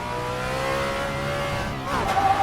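A car engine accelerates in a driving video game on a canyon road from Mt. Disappointment to Newcomb's Ranch. The tone rises steadily with a brief dip and then picks up again, loud and close.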